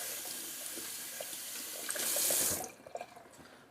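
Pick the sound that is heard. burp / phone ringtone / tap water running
tap water running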